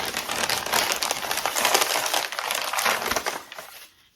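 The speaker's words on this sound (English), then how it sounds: "let me unwrap it" A thrifted milk glass piece is unwrapped from crinkly wrapping, producing loud, close, continuous crumpling and rustling for about four seconds before it cuts to near silence.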